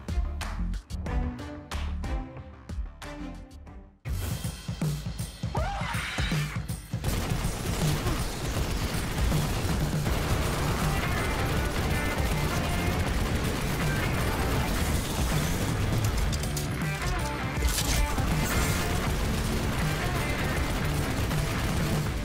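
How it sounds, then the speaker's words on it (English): The Hammerhead legendary machine gun firing in Destiny 2, a fast continuous rattle of shots after a few sharp single reports, loud and sustained over game effects. "The Hammerhead is the first legendary machine gun introduced into Destiny 2."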